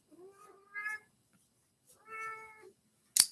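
A pet cat meows twice in a quiet room, two drawn-out harmonic calls roughly a second apart, followed by a short sharp rustle at the end; no one speaks.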